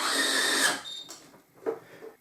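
Kolver DC electric screwdriver running down screws on a test joint with the gasket missing, a whirring motor burst that stops abruptly, followed by short quieter tool sounds and pauses.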